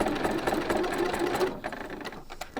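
A sewing machine stitches a pleated fabric ruffle onto a top, running in a steady fast whir for about a second and a half, then slowing into a few short, separate stitch bursts.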